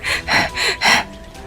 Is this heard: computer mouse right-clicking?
no